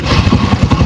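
A motorcycle engine idling right after being started, a loud, close, steady low throb with an even pulsing rhythm.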